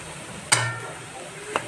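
Moth beans (matki) tipped into a pan and stirred while frying for usal, giving a sharp clatter and sizzle burst followed by a brief second scrape, close and fairly loud over low kitchen hum.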